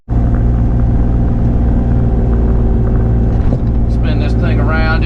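A Bobcat E35 mini excavator engine starts abruptly and runs at a loud, steady low rumble throughout, with a voice talking over it near the end.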